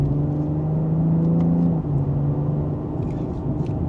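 A 2025 BMW M340i in Sport Plus, second gear, accelerating with a steady loud engine drone from inside the car, the pitch dipping briefly at a quick shift before it pulls on, with no talking.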